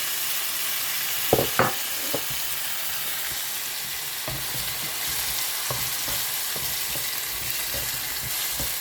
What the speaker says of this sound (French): Je vais donc rajouter, comme je disais, mes tomates.